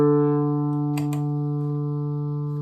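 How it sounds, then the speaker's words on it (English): An open D note is plucked on a guitar through a volume pedal effect, ringing as a sustained, harmonically rich tone that slowly fades, with a faint click partway through. "you can even pluck a D,"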